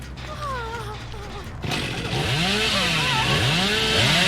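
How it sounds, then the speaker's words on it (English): A killer's chainsaw in a video game revs and drones loudly, building after a quieter start and holding a harsh, sustained roar with swooping pitch changes. "I can't stand this killer's fucking chainsaw"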